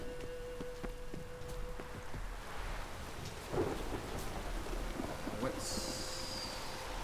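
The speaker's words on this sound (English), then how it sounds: "Storm, damn it." Steady rain pours down during a thunderstorm in the video game Witcher 3, with low thunder rumbling underneath and a few sharper swells, continuous and fairly loud throughout.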